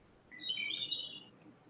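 A soundboard gadget plays a short electronic bird chirp, a bright warbling trill that rises out of near silence, then fades within about a second.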